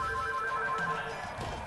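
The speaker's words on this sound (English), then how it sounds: "And my phone is ringing" A phone rings with steady electronic tones repeating under a low background hum, moderately loud and close, with no speech.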